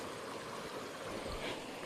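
Steady broadband rush of a forest stream flowing in Jim Corbett National Park, a continuous even wash of water close by with no pauses or voices.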